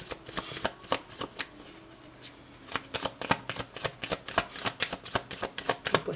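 A deck of tarot cards is shuffled steadily and up close, a quick run of crisp riffling snaps and slaps in an uneven rhythm with no talking.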